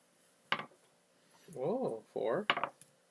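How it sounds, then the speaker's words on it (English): Dice rattling and clattering on a table during a board game of Lorenzo il Magnifico, a quick tap followed by two longer rolling rattles and a final clack, close and fairly quiet. "And you get to roll dice."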